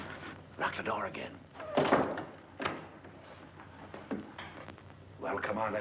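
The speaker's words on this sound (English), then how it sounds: "Lock the door again." A door thuds shut and its lock is worked, dull knocks and a short clunk heard under low conversation between several people indoors.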